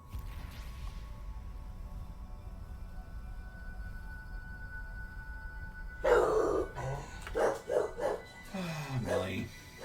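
A dog barks, likely at a postman, in a sudden burst of loud, close yaps and woofs after a quiet stretch, with a person talking in between.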